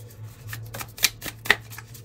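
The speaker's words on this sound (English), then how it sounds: "So let's pull your final cards." Tarot cards are shuffled and pulled by hand in short riffling bursts, with two sharper card snaps standing out midway, close and fairly quiet.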